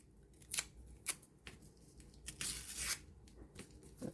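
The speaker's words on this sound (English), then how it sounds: "I'm going to get another piece of tape and I'm going to pull this off." Tape is peeled off coffee-dyed paper in a few short, crisp rips, then a longer, louder tearing pull, close and quiet with no talking.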